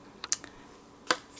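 Scissors making small cuts into paper, a few quick crisp snips: a short cluster of clicks, then one more clear snip a moment later, close and quiet.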